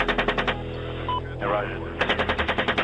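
Bursts of automatic machine gun fire from combat footage, rapid rhythmic rounds at the start and again near the end, with a voice speaking briefly over radio-like chatter in between.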